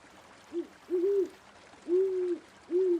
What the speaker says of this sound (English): A large owl seems to be watching you.